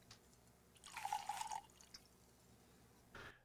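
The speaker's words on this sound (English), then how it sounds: "I'm going to dribble the droplets into my glass." Shizuku sake dribbles into a glass as a brief soft trickle of droplets, then a faint splash follows a moment later in a quiet room.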